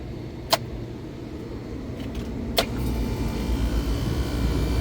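Vehicle air conditioning compressor switched to setting 2, running with a steady low mechanical hum that rises slightly in level, preceded by two sharp clicks, near and continuous.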